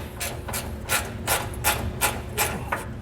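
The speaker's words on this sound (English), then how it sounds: "So now with my 10mm ratchet, I'll go ahead and get these loosened up." A 10mm ratchet works bolts loose beneath the bed of a 2019 Ford F-250, giving a steady run of short, regular clicking bursts close up, about seven in three seconds, with no talk over them.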